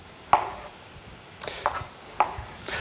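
A knife cuts Roma tomatoes in half lengthwise on a board, giving about four separate close, crisp chops with brief pauses between them.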